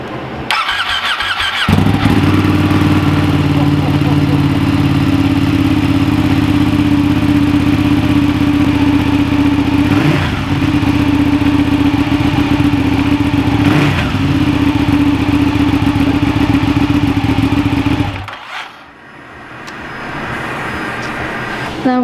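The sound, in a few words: Ducati Panigale motorcycle engine running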